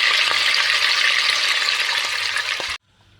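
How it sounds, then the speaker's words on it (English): Lamb or beef pieces browning in a hot pan for rogan josh give a loud, steady sizzle and frying hiss that cuts off abruptly near the end. "I'm just going to carry on doing this until I've browned all the meat."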